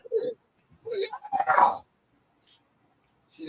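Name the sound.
dog barking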